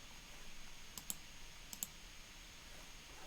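A pair of faint computer mouse clicks arrives at about one and 1.8 seconds, crisp but quiet over a low room hiss, with no talking.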